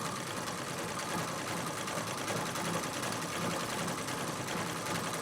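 A sewing machine quilting a leaf design hums in a steady, continuous mechanical whir, faint but constant throughout with no pauses and no voices.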